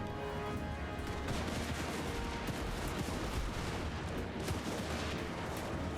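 Cannon artillery fire in Total War: Warhammer, from an Empire army: a dense, continuous barrage of booms and crackling shots layered over one another, loud and without pause.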